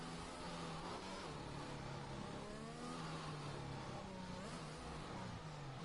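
Race car drifting in an online racing video game, a continuous loud engine roar with wavering revs and tire squeal as the car slides, steady throughout without speech.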